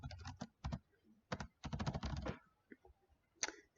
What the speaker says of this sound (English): So I just typed it in the box the way it is here.